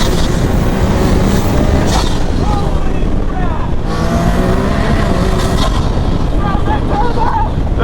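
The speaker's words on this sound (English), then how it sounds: "That turbo like winds up." A turbocharged Can-Am Maverick R engine on sand dunes, loud and near, revving and winding up in rising whines over constant roaring noise, with a voice speaking briefly.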